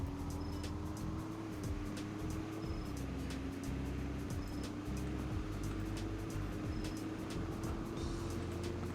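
An EcoBoost car with a 10-speed transmission accelerating hard in the Roblox game Greenville, giving a steady, loud engine drone that climbs slowly in pitch, with faint regular clicks and no talking.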